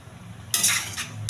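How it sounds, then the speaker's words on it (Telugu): Potato pieces with peanut and walnut paste sizzle in a pan as a spoon stirs them, giving two bursts of scraping, frying noise after a quiet start. "పచ్చివాసన పోయే వరకు బాగా వేగించాలండి. కొంచెం కలుపుతూ ఉండాలి."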